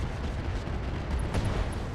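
Missiles strike in the mech combat game RogueTech, a dense rumbling barrage of explosions and impacts that runs steadily throughout with a slightly louder burst near the end.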